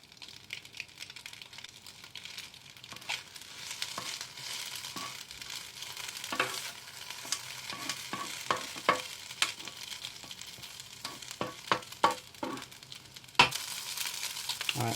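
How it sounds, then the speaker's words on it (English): An egg cooks with chicken fried noodles, Singapore style, in a multicooker: a steady soft sizzle under repeated light scraping and tapping from stirring, close by with no talking. "I'm just going to crack an egg on the side. Let the egg cook halfway before you mix it all up."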